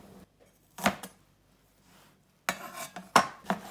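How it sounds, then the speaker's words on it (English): Peeled garlic cloves are roughly chopped with a knife on a board, a few sharp chopping clicks in two short clusters separated by near silence. "5 cloves of garlic, also peeled and roughly chopped"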